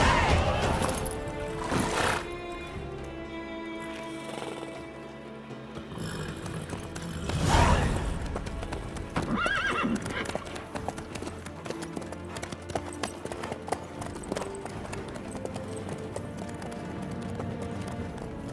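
Horse hooves clip-clop steadily in The Witcher 3, with a neigh standing out near the middle, under game music and ambient sound.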